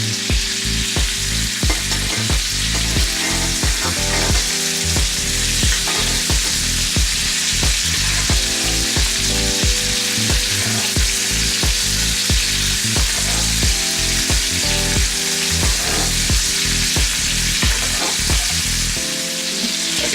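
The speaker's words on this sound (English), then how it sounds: "Let's go ahead and baste that side as well." A thick NY strip steak sears and is basted in a hot pan. The sizzle is loud and constant, and a spoon clicks and scrapes against the metal in a busy, irregular rhythm.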